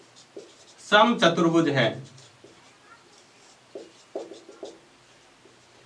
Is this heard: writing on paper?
yes